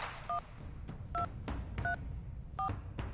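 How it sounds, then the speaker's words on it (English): Telephone keypad tones in the video game Reverse 1999, about five short dual-tone beeps spaced roughly evenly over a low background hum. "Who are you dialing?"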